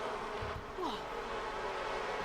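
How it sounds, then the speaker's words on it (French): Bees swarm around a beehive in the video game The Sims 4, a dense, steady insect buzz heard close and continuous throughout. "nous allons commencer à nous occuper de nos abeilles"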